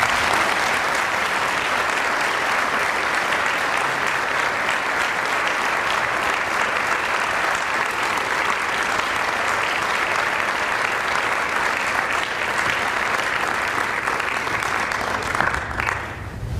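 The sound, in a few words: audience applause welcoming speaker Ron Chernow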